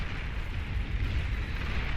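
A nuclear strike landing in the real-time strategy game Beyond All Reason, a broad, sustained rumbling blast with dense low roar that fills the whole two seconds at steady loudness, no voices.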